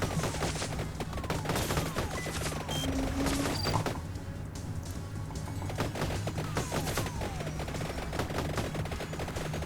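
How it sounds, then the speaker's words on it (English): Projectiles fire rapidly and continuously in the Vampire Survivors video game, a dense stream of rattling shots layered over steady game music and effects. "Shooting 2 projectiles."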